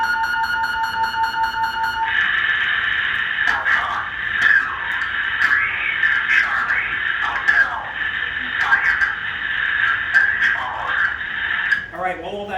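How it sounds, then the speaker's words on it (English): Steady radio static and tonal warbling at the Titan Missile Museum, preceded by a short beeping tone pattern, running continuously with someone speaking over it. "while all that static's going on"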